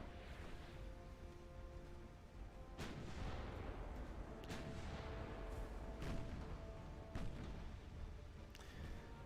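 Naval guns firing in the warship game Ultimate Admiral Dreadnoughts, with several heavy booms at irregular intervals over a steady rumble of sea and battle noise.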